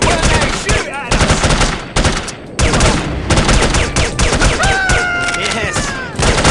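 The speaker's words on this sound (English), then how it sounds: "I hate it when they shoot at us!" Enemies in a video game fire off dense, loud bursts of automatic gunfire in rapid volleys, broken by brief gaps, with a few ricochet-like whines near the end.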